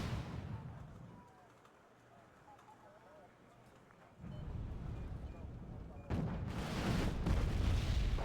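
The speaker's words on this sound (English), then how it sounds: "Pretty good bomb there." A heavy bomb blast in a military vehicle combat game, booming broadband bursts that swell loud around the middle and surge again near the end over low rumbling engine noise, with a voice talking in between.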